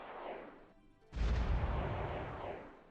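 Rocket strike hitting enemy docks in the war strategy game World Conqueror 4, a brief hiss and launch followed by a loud, sustained low rumbling blast that lingers and slowly fades.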